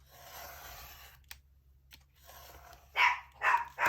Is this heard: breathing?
no